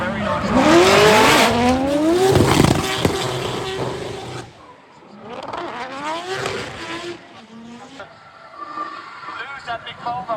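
Drift cars at a festival, an LS-swapped Nissan 350Z chased by a rotary-engined Volvo, scream past with howling engines and long squealing tires, loud and close, fading then returning, while a commentator talks over them.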